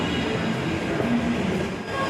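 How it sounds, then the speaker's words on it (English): A metro train runs at Ramesh Nagar station in Delhi, a steady loud rumble with wheel hiss and a faint squeal, heard from inside or close by. "this is Ramesh Nagar metro station"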